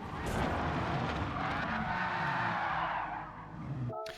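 In a sim racing game, a car squeals and skids through a sustained slide and spin, tires howling loudly with engine noise beneath, ending in an abrupt cut.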